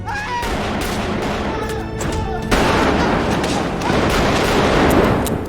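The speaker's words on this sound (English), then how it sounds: "Arthur retaliates by shooting and killing all 3 men." Rapid gunshots from a handgun as three men are shot dead inside a subway car in Joker, a loud, dense burst of blasts over a rumbling train, with a voice briefly heard.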